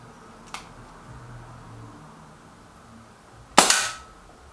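Two sharp cracks from a Walther Rotex RM8 air rifle at a target range, the first short and lighter, the second much louder with a brief ringing decay, separated by quiet.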